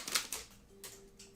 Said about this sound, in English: He's still typing?